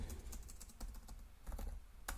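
Someone types steadily on a computer keyboard with soft, rapid clicks in uneven bursts at close range, fairly quiet and with no voices.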